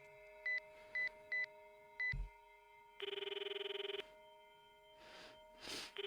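A phone call rings inside the visual novel game I/O. Four short electronic beeps come first, then a sustained buzzing ring tone lasting about a second, all set over a steady background music drone.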